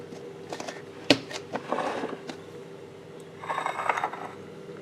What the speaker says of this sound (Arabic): هحط عليها الغطا بتاعها واسيبها في التلاجة